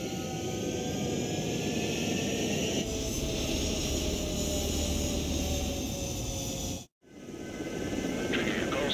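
A fighter jet in Ace Combat 7 roars down the runway on takeoff, a loud continuous engine whine and rumble with rising tones, broken by one sudden brief dropout before the roar returns.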